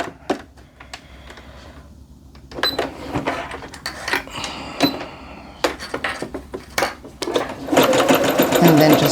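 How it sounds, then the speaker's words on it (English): Clacking, ratcheting needle strokes from a sewing machine working a zigzag stitch on joggers come in short uneven bursts, then build into a steadier run at the end. "And then just go on down with my zigzag stitch and stop at that first dot like we just went over"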